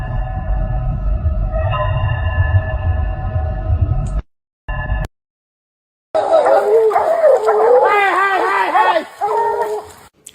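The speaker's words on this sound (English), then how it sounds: "that was a dog hanging off a bear's nutsack." A dog yelps and howls in sharp, wavering cries while tangling with a bear, loud and close, after a stretch of droning noise and an abrupt dropout of silence.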